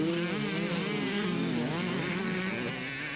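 A 125cc Kawasaki motocross motorcycle engine buzzes steadily at a 1992 county fair motocross race, its high, wavering drone rising and falling through the gears, mid-distance and continuous with no talk.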